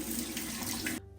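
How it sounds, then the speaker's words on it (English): Tap water running steadily into a bathroom sink while the face is rinsed, a soft close splashing hiss that cuts off abruptly near the end. "now I'm just gonna rinse this off with some lukewarm water"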